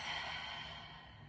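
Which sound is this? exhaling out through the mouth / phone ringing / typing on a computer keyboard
exhaling out through the mouth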